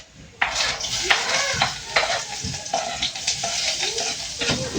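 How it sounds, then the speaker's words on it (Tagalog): Garlic and onion sauté in a hot pan, a steady sizzle broken by repeated scraping stirs and clinks of a utensil against the pan, close and fairly loud. "At ngayon magigisa na po tayo."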